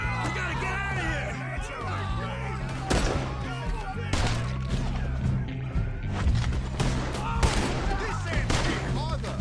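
Gunfire in Red Dead Redemption 2 cracks repeatedly amid a chaotic scene, irregular shots mixed with crashes and thuds under raised voices and ongoing talk.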